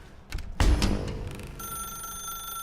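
A telephone ringing inside The Stanley Parable video game, a loud, sudden ring that decays into a steady electronic tone, heard alone.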